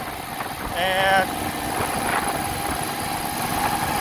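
A 1968 Moto Guzzi V7 700 motorcycle with resleeved cylinders runs at a steady, loud engine drone while being ridden, with wind rush and a brief voice over the continuous noise.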